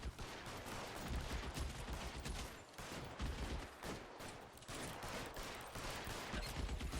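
Rapid gunfire in the L.A. Noire detective game, a dense barrage of shots rattling on and off in bursts over a loud, noisy background.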